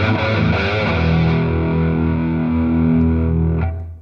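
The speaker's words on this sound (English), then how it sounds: "I've been playing on a Jackson Soloist in a natural finish with 24 frets. Blackstar ID260 has been the star of the show." A Jackson Soloist electric guitar with 24 frets plays through a Blackstar ID260 amplifier, ringing out a heavily distorted sustained chord with effects that fades away at the end.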